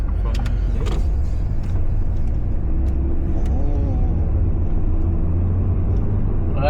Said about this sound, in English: See, there's a car coming from up ahead.